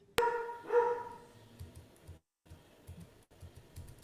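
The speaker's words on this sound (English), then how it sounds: "So one barks, then the other barks" A dog gives a sharp bark, then a second bark follows a moment later, both short and moderately close, after which only faint low rumbling and scattered small noises remain.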